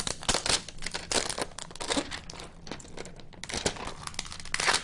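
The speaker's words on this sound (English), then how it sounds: "Go ahead and peel off the plastic." Protective plastic film is peeled off a Nook tablet, close up. It gives a run of crisp crinkling and tearing rustles in irregular bursts, with brief quiet gaps between pulls.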